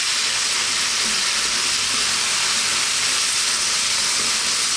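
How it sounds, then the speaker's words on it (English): Cream and Parmesan sauce sizzles and bubbles in a hot pan, a steady loud hiss of frying that continues evenly throughout with no talking. "We're going to get this mixing now with the heat on"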